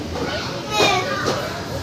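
Children play noisily at an indoor amusement centre, a steady crowd of young voices and shouts close by, with an adult speaking among them.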